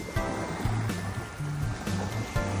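Sea waves wash steadily onto a beach where a child plays, a continuous broadband surf rush with small swells. Faint voices sit underneath.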